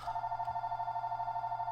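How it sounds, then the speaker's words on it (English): Telephone ringing indoors with a steady electronic trill, pulsing in a rapid even rhythm at moderate level, with no talk over it. "that's just the phone"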